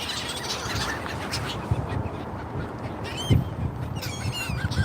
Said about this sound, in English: Check me out. Look at my bird.